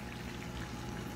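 Pond waterfall and fountains in a large pet store make a dense, steady splashing roar, loud and unbroken across a brief span with no voices.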